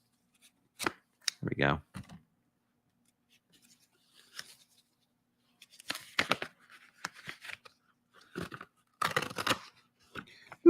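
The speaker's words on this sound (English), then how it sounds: "If I can open an envelope" Paper envelope torn and opened by hand at a crafting table, a few brief rustling, ripping bursts scattered between pauses, close and fairly clear, with a short spoken remark.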